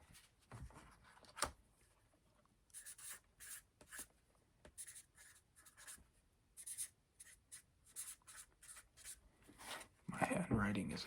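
A pen scratches and taps across paper in short, uneven bursts of handwriting, close and quiet, with a louder rubbing scrape near the end.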